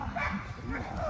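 At a self-reliance festival bite-work demonstration, a dog gives short yips and rough growly vocalizations close by, tangled with a voice talking over it.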